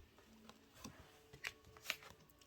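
Tarot cards being shuffled and drawn, with a few soft papery riffles and slaps, the strongest two near the end, quiet and close with no talking.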